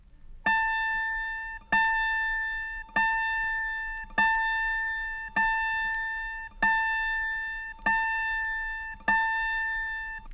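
An autoharp's G string is plucked and tuned, ringing out as eight evenly spaced single notes, each decaying slowly, clear and alone.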